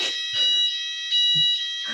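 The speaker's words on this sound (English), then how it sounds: "There's a fire alarm test in my building now." A building fire alarm under test sounds in repeated electronic pulses, a high whooping tone cycling on and off about every half second with quieter gaps. It is fairly loud, with faint low voice fragments between bursts.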